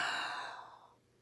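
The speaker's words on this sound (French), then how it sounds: "Tu prends une grande inspiration" One long, deep breath drawn in through the mouth, close and soft, fading away over about a second into near silence.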